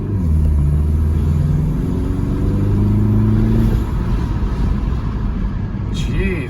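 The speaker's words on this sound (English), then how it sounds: "you can really hear that turbo now" Porsche Macan with a Flat 6 Motorsports intake, heard from inside while driving: a loud, steady engine drone with rising pitch lines as it revs, with a voice speaking over it.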